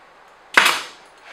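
A brad nail gun fires once, a sharp, loud pop that quickly fades into a short decay against near silence, heard while assembling components.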